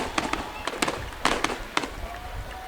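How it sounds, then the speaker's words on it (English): Fireworks at a high school football game between Oakland and Center Grove, a rapid series of sharp crackling bursts and pops at mid distance, some close together, over crowd murmur. "Beautiful fireworks going off"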